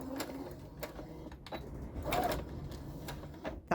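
A sewing machine stitches brocade jacquard fabric at stitch length 2.5, giving a close, steady mechanical whirr with rapid repeated clicks and brief pauses throughout.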